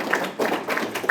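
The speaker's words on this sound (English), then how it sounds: "Can we actually clap for that?" Scattered audience applause at a political speech: a brief, moderately quiet patter of hands clapping that swells and fades in a few soft waves.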